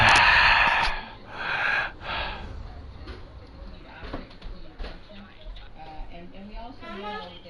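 Heavy, gasping breaths and snorts sound close to the mic during a live PS4 gaming broadcast, loudest in the first two seconds, then fading under quieter mouth and breath noises.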